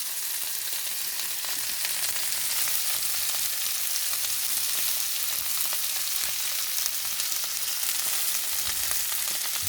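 Steak sizzles steadily in olive oil in a hot pan, a dense, even crackle and hiss that holds at a constant close level with no talking.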